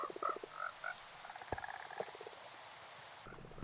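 Frogs in the Minecraft video game croak in short, repeated low calls, several overlapping bursts at moderate loudness over a faint background, with no talking.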